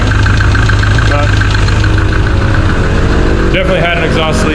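A lowrider car engine with an exhaust leak runs steadily and loud up close, a rough low rumble with ticking puffs from the leak, plus a brief higher-pitched sound near the end.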